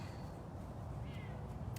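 A big cat named Cyrus gives a single short, low meow-like growl at close range, heavy and rough in tone, with no other sound or talk around it.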